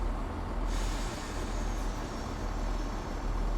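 Class 170 diesel multiple unit train in Train Sim World accelerating, heard from outside, a continuous deep rumbling engine roar with hissy broadband noise, steady and fairly loud throughout.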